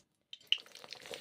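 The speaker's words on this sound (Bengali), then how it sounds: "ডিম ভেজে নিচ্ছি, দুটো ডিম ভেজে নিচ্ছি।" Two eggs frying in hot mustard oil in a wok, a soft sizzle and crackle that starts abruptly after a moment of silence and continues with small popping spatters, fairly quiet and close.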